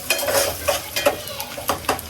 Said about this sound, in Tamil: இப்போ நல்லா ஃப்ரை ஆயிடுச்சு, கோல்டன் ஃப்ரை